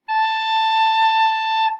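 A recorder sounds a single sustained note A, played with thumb and two fingers. The tone is steady, clear and breathy and lasts under two seconds, alone and close.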